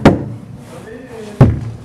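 Two solid knocks land on a door, one at the start and one near the end, each a loud, close, single thud, with a quiet gap between them.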